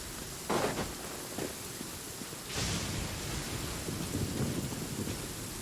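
In Genshin Impact, a lightning strike brings a rumble of thunder over steady rain, a broad noisy wash with a couple of swelling booms, moderately loud and alone.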